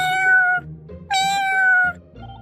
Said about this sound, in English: Taking care of these cats.